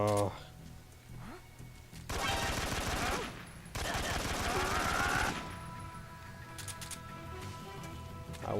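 Bursts of rapid automatic gunfire aimed at the player in Metal Gear Solid 3, loud sustained volleys separated by short gaps, with game music and effects underneath.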